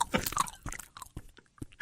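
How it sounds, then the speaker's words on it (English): Someone chews gum close to the mic, producing wet, smacking and crunchy mouth sounds in an irregular rhythm, fairly loud and with no talking. "Chewing the gum."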